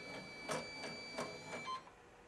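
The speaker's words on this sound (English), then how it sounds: "now we're going to send the machine to needle number 1" An embroidery machine drives its head across to needle number 1, giving a short series of quiet mechanical clicks and whirs with a steady high whine underneath, all at low level.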